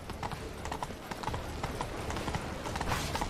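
Horse hooves clip-clop in a quick, steady rhythm while a horse is ridden in the video game Witcher 3: Blood and Wine, with faint background sound around the hoofbeats.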